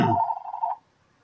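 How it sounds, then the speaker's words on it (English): A telephone rings indoors in one short tonal burst that cuts off abruptly, close and fairly loud, with no talking over it. "the damn phone started ringing"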